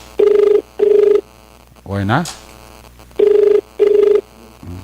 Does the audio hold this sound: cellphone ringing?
yes